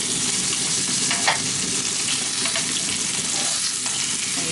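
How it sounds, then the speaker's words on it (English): Lamb chops sear in hot oil with a dense, even sizzle and crackle that stays constant and close, undisturbed and without any talking. "you're just going to leave it to sear on both sides, so don't touch it once it hits the oil"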